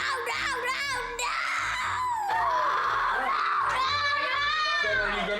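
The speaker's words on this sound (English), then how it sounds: "Dana's tantrums haven't stopped" A young girl screams and wails through a tantrum, loud and close, her shrill cries rising and falling almost without pause, with another voice speaking at moments.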